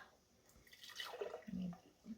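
Milk pours into glass canning jars at home, a faint short trickle and splash with a few drips that ends in a brief gurgle.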